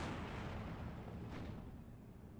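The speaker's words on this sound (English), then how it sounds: "M42 starting to shoot at the infantry" Anti-aircraft M42 gun in Steel Division II firing at infantry, a dense continuous roar of distant battlefield gunfire and rumbling blasts with no clear separate shots.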